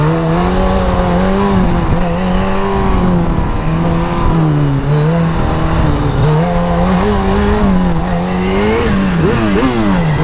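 A Suzuki Hayabusa 1300 motorcycle holds a loud, sustained high-revving burnout, engine pitch wavering up and down continuously at close range, with tire noise and no talk.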